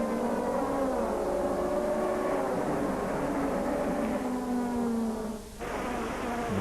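Opel and Audi DTM touring cars racing at Spa-Francorchamps in 2005, a loud sustained engine roar with pitch sweeping as the cars pass, broken by a brief dip and renewed acceleration near the end.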